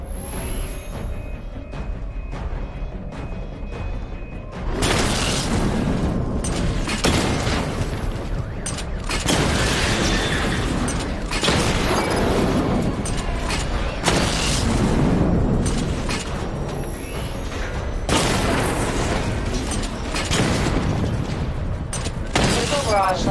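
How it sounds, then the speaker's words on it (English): Repeated missile barrage explosions in Batman: Arkham Knight, a dense run of loud booming blasts and rumbling impacts that starts after a few quieter seconds and continues almost without pause. "Charge the missile barrage to level 2 to destroy up to 4 targets at once."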